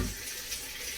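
Water runs steadily from a tap into a large canning pot, a soft even hiss that holds for a moment with no voices.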